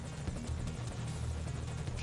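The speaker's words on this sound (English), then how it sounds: "So this helicopter coming up, you can actually take him out quicker" Enemy helicopter in the video game Metal Gear Solid V: Ground Zeroes, a loud, steady rotor thump and engine roar that fills the whole stretch without letting up.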